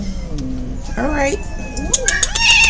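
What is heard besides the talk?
aggravated feral cat yowling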